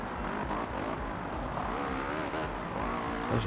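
Motocross bike in the video game MXGP2 revving hard as it accelerates, a steady loud engine drone with pitch rising and wavering throughout, and no break in the sound.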